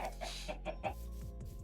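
Chickens at a coop in Minecraft cluck in short, repeated bursts, several quick clucks in a row, close and fairly quiet, with nothing else heard.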